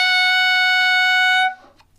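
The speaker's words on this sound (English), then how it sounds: "high G sharp, altissimo G sharp sounds like this" A tenor saxophone sounds a single high altissimo G sharp, a bright sustained tone held steadily for about a second and a half before cutting off, close and clear with no talking.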